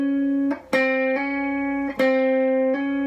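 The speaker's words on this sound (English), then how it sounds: "the first one I want to look at is called a hammer-on" A guitar G string picked, then sounded again by hammering a finger down onto a higher fret of the ringing string: clear sustained tones with sharp attacks and a small step up in pitch, repeated several times, close and alone.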